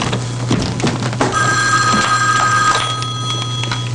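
An indoor telephone rings with a steady electronic bell tone that starts partway in and holds for over a second, loud and near over a low room hum with a few thumps.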